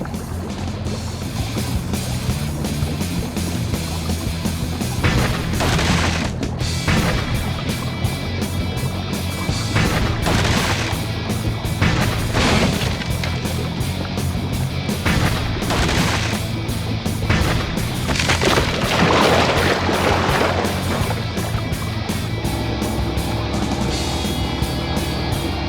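The boat's front-mounted gun firing in the Flushed Away PS2 game, with explosions; repeated loud bursts of gunfire and booms over a constant dense bed of game music and motor noise, running throughout.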